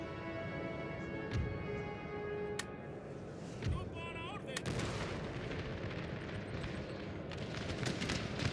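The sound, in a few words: artillery fire in video game Napoleon Total War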